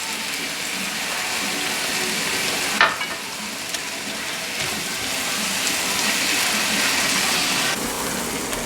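Garlic and ají amarillo sizzle and crackle steadily in a hot pan for Peruvian lomo saltado, a dense, close frying hiss with a brief clatter of stirring partway through.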